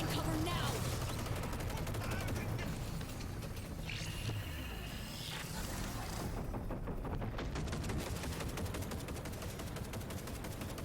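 Dense, continuous gunfire fills a firefight in Cyberpunk 2077 Phantom Liberty, a steady roar of rapid shots and bursts with voices shouting underneath throughout.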